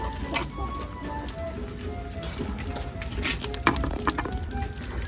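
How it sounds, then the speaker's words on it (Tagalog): Telescope shells, known locally as bagungon, grilling on sticks over a fire, with a steady crackling sizzle and brief popping flares that carry on continuously and fairly close, and no talk over them. "Inihaw na bagungon."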